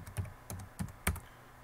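Four distinct keystrokes on a computer keyboard, spaced unevenly over under two seconds as a password is typed in, close and fairly quiet with no voices.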